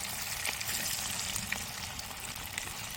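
Kabab pieces frying in hot oil in an outdoor village cooking setup, a steady dense sizzle and crackle with small popping bursts running continuously and close throughout.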